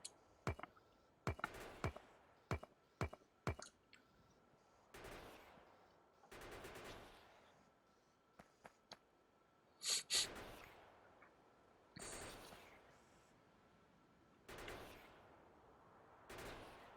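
Gunfire in the video game Factorio crackles in sharp bursts: rapid single shots early, then longer sustained volleys and isolated loud reports, separated by quiet gaps.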